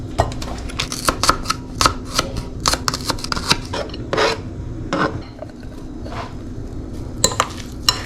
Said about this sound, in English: I'm gonna start mixing that up.